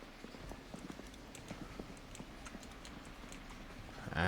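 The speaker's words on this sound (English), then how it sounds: "I heard footsteps." Footsteps in a zombie video game come as faint, steady quick taps with a hollow, clip-clop quality, quiet and somewhat distant, closing with a brief louder bump.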